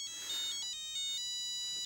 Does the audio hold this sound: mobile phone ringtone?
yes